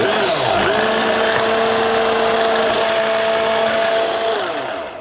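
An immersion blender blitzes salt and sugar for lemon meringue pie pastry, a loud continuous motor whine held steady for several seconds before winding down at the end.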